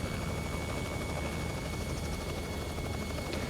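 A Robinson R66 helicopter in X-Plane 11 drones with a steady, loud rotor and turbine roar that stays constant and close, with no voices over it.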